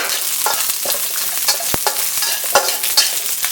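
Mustard seeds, chopped hot green chillies and curry leaves fry loudly in hot oil in a pan, with a close, steady sizzle broken by sharp crackles and pops as the mustard seeds burst while being stirred.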